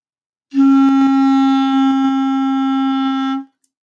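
A single clarinet D note held steadily for about three seconds, clear and fairly loud, with a clean start and a smooth cutoff.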